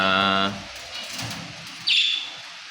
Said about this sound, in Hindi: मैना